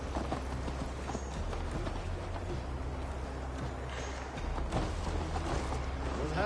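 Horse hooves beat steadily and continuously during a ride in Assassin's Creed Valhalla, a dense galloping rumble mixed with other game sounds, with no voices over it.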